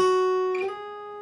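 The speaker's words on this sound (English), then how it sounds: "This time after we picked it, we're going to slide it up to the 9th fret." A single guitar note on the B string is picked and then slid up to the 9th fret, sounding close and clear, with a brief squeaky glide partway through before it settles and rings on at the higher pitch.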